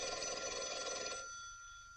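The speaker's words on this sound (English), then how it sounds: "Your phone's ringing." An old telephone bell rings loudly and continuously for about a second with a harsh metallic trill, then cuts off and leaves a quiet, faint room tone.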